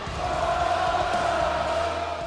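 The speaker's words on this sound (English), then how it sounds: "Pretty soon, the crowd starts to roar." Crowd roaring at a live wrestling event in an arena, a dense, steady wash of many voices with a sustained tonal bellow running through it, loud and continuous from start to finish.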